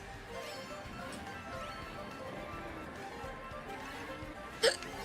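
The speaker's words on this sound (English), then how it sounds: "You're just gonna take over with hiccups tonight, aren't you?" A single short, sharp hiccup near the end of a few seconds, rising briefly above a steady bed of background game noise.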